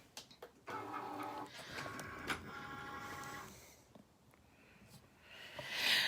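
A Cricut cutting machine starts up on a completed sticker sheet, giving a steady mechanical whir with clicking and carriage-movement sounds. It runs close and moderately loud, ending in a brief louder hiss.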